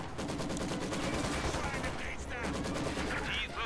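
Dense machine gun fire rattles in the Company of Heroes 2 strategy game, with rapid overlapping bursts and explosions in a busy battle soundscape, with voices faintly underneath.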